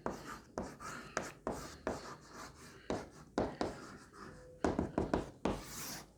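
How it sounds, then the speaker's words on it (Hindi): Chalk or marker writing out a line of notes on a board during a Class 11 chemistry lecture, heard as a run of short scratchy strokes with brief pauses between them, fairly close and moderately loud. "एक ही लाइन में लिख रहा हूँ"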